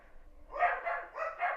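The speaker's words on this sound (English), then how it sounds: "my dog is barking in the background" A dog barks a few times in the background indoors, two short paired bursts of moderately loud barking with no other sound around them.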